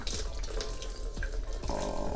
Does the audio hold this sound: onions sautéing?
no